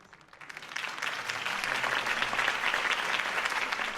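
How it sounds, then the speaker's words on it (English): Applause from a crowd in a video game swells up and holds steady, many hands clapping together at a moderate distance. "If only Mr. Wayne, my campaign's largest backer, could have heard that applause"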